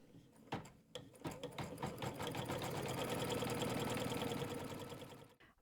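A sewing machine stitches embroidery onto a quilt appliqué, starting with a few separate clicks before settling into a dense, steady mechanical whir that runs for several seconds and stops abruptly.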